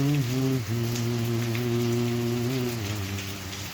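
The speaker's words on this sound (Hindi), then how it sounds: "पत्तों पे गिरती हुई बारिश की बूंदें" Raindrops patter on leaves in a soft, continuous hiss, while a strong low sustained tone with steady harmonics runs underneath the whole time.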